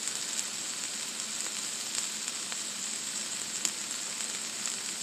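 Onions sizzle and fry steadily in a hot pan for burgers, a constant crackling hiss with occasional sharper pops, close and moderately quiet, with no talking.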